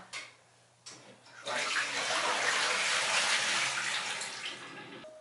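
Tap water gushes steadily into a pan in a kitchen sink, filling it to soak, a loud continuous splashing rush that starts after a brief quieter trickle and fades near the end.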